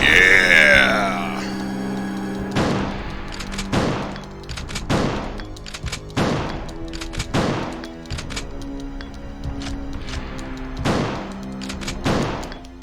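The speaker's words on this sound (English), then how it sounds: "7 shotgun shells, and he's down" Shotgun blasts fire at Mr. X in the Resident Evil 2 video game, about seven loud booming shots spaced roughly a second or more apart, each trailing off over a steady game soundtrack.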